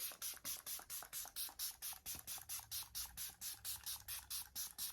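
Facial mist pump-sprayed onto skin in rapid repeated bursts, about four short hissing puffs per second in a steady rhythm, close and fairly faint, with no talking.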